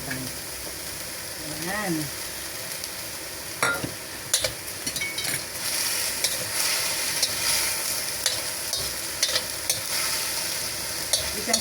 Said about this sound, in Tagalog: Tapos ilagay na natin yung ating bean curd